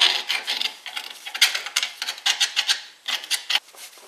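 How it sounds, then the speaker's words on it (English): A flathead screwdriver scrapes oxidation off a steel steering knuckle from a 2008-2012 Chevy Malibu during a front wheel bearing job, giving close, steady rasping strokes in quick uneven bursts with no talk. "I'm just going to use a flathead. Just clean up some of this oxidation that's on here."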